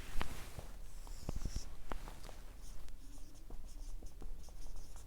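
Marker or chalk writing on a board during a pharmacology lecture: a string of close, sharp taps and short scratchy strokes, irregular and fairly quiet, with no talking.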